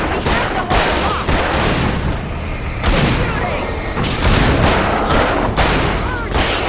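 Heavy gunfire in the Alan Wake video game, loud dense volleys of shots and booms in rapid bursts with brief lulls, close and continuous.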